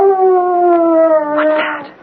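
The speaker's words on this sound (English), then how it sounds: "The dog?" A single dog lets out a long, clear, mournful howl at close range, the tone sliding gently downward before breaking into a brief whimpering yip and fading out.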